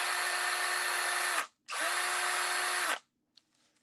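A power drill whirs loudly at steady speed for about a second and a half, stops briefly, then runs again for over a second before cutting off, leaving a faint click and quiet afterward.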